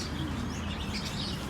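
Birds chirp and tweet faintly and steadily in a garden where miniature roosters and chickens are kept, against a dense, hissy background.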